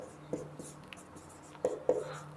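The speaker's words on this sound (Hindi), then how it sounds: "तो यहाँ पर मैं लिख रहा हूँ अतिव्यापन।" Chalk writing on a classroom board during a chemistry lesson, a few short scratchy strokes and taps standing out against a quiet room, with faint voice traces in the background.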